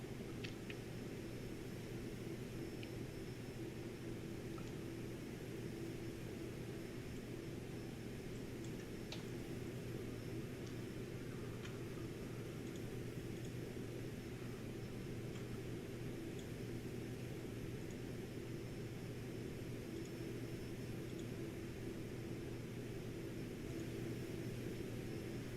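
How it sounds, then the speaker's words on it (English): Steady, even cabin roar inside a Cirrus Vision Jet climbing in flight, a constant broadband hum with a low drone beneath and a few faint ticks, no voices. "Very quiet jet as well."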